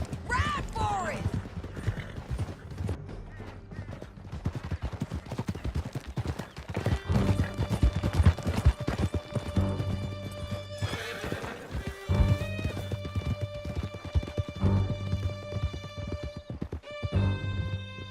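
Horses in Red Dead Redemption 2 thunder along in steady clip-clop hoofbeats with sharp whinnies near the start, over a game music bed, running continuously and loud throughout.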